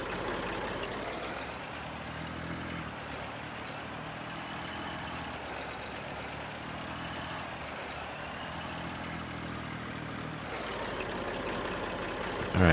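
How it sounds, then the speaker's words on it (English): A tractor engine in Farming Simulator 19 rumbles steadily as it drives, a low, even drone held for several seconds with slight shifts in pitch and no talk over it. "Let me get this tractor out of here."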